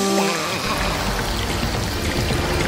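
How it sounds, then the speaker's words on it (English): Water gushes from a hose in a cartoon, a loud steady pouring rush that runs without a break from start to finish, with no voices. "Dr. Spooky, turn off the water when you're not using the hose"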